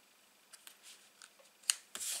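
Scissors snip through decorative paper, trimming it to 6 by 6 size, with a few quiet, separate cuts and a sharper snip near the end, heard close up with no talking.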